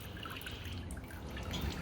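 Liquid draining off and dripping steadily, a close continuous trickle with scattered drips and no talk.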